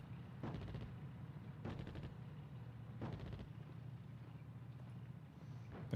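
Gunfire from the North Africa war strategy game Attack At Dawn, heard as short bursts of shots repeating every second or so at a moderate, steady level over a low background rumble.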